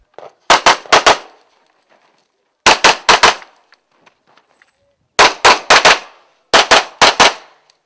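Rapid pistol shots at an IPSC World Shoot competition, fired in four tight bursts of three to four sharp, loud cracks each, with short quiet gaps between strings and no talk.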